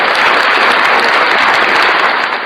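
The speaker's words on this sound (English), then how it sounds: "I want to give you some applause right now for all of your accomplishments" Loud, dense applause from a crowd gathered in a yard at an evening event, steady clapping filling the moment without speech.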